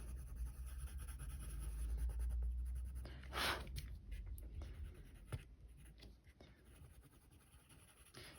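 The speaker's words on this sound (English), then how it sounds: "I'm going to go back in with the cream now and I'm going to burnish this" A cream colouring pencil burnishing over paper in a flower colouring book, a soft steady scratching rubbed in short strokes, close and faint, alone without talk.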